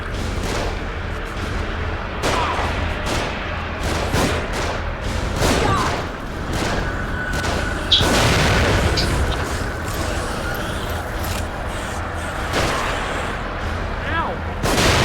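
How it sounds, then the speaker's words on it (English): Enemy gunfire and booming blasts from above in The Evil Within, a survival horror game, with repeated sharp shots over a steady loud background while a person talks throughout. "They're shooting from above."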